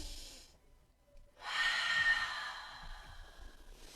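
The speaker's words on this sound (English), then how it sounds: "And just a big deep breath." A single big deep breath drawn in close to the mic during a guided relaxation, rising after a near-silent pause and trailing off into a soft exhale, alone with no talking.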